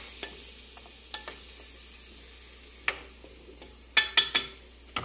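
Chicken pieces with soy sauce sizzle gently in a pan for a spicy chicken curry. Several clattering stirs of a utensil break through the quiet frying.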